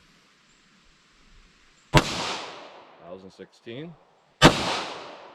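Two sharp .40 S&W pistol shots from Remington rounds, each a loud crack with a ringing decay, spaced a few seconds apart, with a short spoken remark between them.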